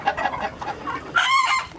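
Ducks squabbling and fighting on a Long Island farm, letting out harsh, scrappy calls in a choppy run, then one longer, louder squawk near the end, close by and unaccompanied by talk.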